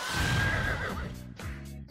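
Roland's flaming horse whinnies in Brawlhalla, a loud, long neigh with a high wavering cry that drops into lower snorting pulses at the end, with no other sound.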